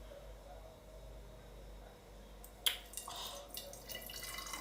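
After a quiet stretch, fresh fuchsia-pink fruit juice starts pouring with a sudden splash, then a light, uneven trickling and splashing continues at close range, with no speech.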